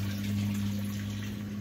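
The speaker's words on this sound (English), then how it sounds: "there's a sump pump in there that pumps water back into the big 330-gallon reservoir" Sump pump in an outdoor hydroponic garden pushing water back into a 330-gallon reservoir, a steady low motor hum with faint trickling water, quiet and continuous with no talking.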